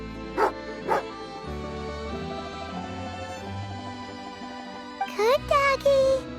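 A dog in the video game Genshin Impact gives two short barks, then a cluster of yips and whimpering barks, over a sustained musical backdrop with a game character's voice.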